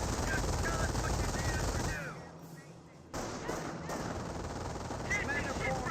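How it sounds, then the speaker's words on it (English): An MG42 machine gun fires in Company of Heroes, with rattling bursts amid battlefield noise that briefly drops away before the gunfire resumes. "Now that the MG42 engaged in the rifleman."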